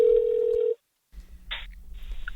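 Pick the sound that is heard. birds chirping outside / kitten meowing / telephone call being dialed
telephone call being dialed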